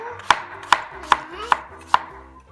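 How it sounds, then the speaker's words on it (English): Five evenly spaced, crisp knife chops on a cutting board as zucchini is sliced very thinly, each stroke a sharp close knock with no talking. "With my zucchini, you're going to chop them or slice them very thinly."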